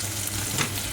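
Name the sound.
paneer pieces frying in a pan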